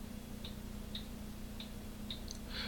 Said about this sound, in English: my house is full of mechanical movement clocks